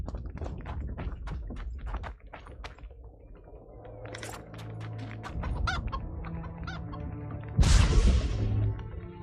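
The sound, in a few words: chicken clucking in the video game The Witcher 2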